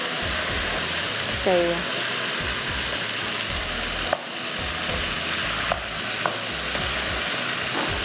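Green chillies fry and get stirred in a pan of seekh kabab handi, a steady close sizzle running throughout with a few utensil scrapes and a brief spoken remark.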